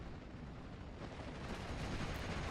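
A Churchill IV tank's gunfire toward an infantry squad in a WWII combat video game rolls out as a dense, steady wall of booming rumble and crackling battle noise, with no distinct individual shots.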